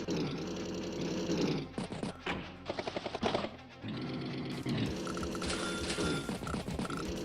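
Artillery shelling a medium tank in the video game Advance Wars, heard as dense, loud game sound effects with a rapid rattling burst of hits in the middle, set within continuous music and noise, with no talking.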